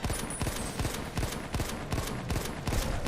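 Rapid gunfire in Fallout New Vegas: a fast series of sharp shots at an irregular, rattling pace, fairly close and moderately loud, continuing through the whole stretch with no talking.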